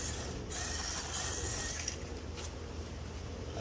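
An SCX24 Buzzsaw mini RC crawler drives at speed, its tiny motor and gears producing a continuous faint high-pitched mechanical whir and ratcheting clatter, with brief scrabbling bursts from the tires and a low rumble underneath.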